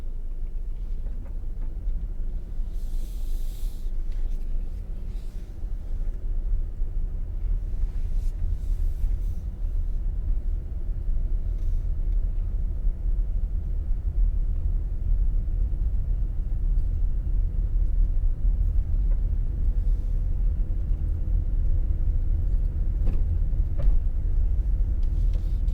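A car driving along a road in St. Elizabeth Parish, Jamaica, heard from inside as a steady, loud low-pitched rumble of engine and tyres that continues unbroken throughout.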